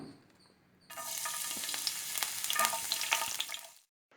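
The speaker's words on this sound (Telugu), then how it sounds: "ఆయిల్ వేడి అయిన తర్వాత దీనిలోకి వెల్లుల్లిపాయలు చిన్నగా కట్ చేసుకున్నది, అలాగే అల్లం కూడా చిన్నగా కట్ చేసుకున్నది యాడ్ చేసుకోవాలి." Finely chopped garlic and ginger hit hot oil in a pan, bursting into a loud, steady sizzle after a quiet start, crackling continuously for a few seconds before cutting off.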